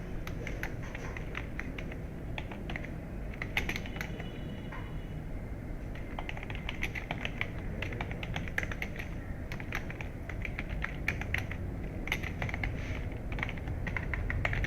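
Steady keyboard typing on a computer keyboard while entering a college name into an MS Word document, a continuous run of quick clicky key taps with occasional louder strokes over a low room hum, close and fairly quiet throughout.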